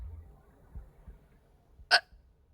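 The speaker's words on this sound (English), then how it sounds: "Oh gosh, I have the hiccups." A single sharp human hiccup, close and brief, breaks a quiet stretch of faint low background noise.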